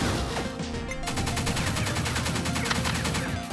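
Grenades burst in rapid succession in the top-down shooter Pineapple Smash Crew, a dense, loud barrage of crashing explosions and crackling gunfire that keeps on without a break and with no voices over it.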